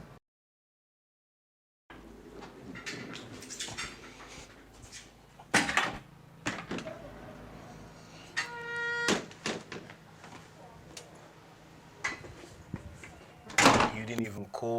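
A door on a film set, heard after a stretch of silence as several sharp knocks and thuds, a rattling handle and then the door opening, with a bang near the end.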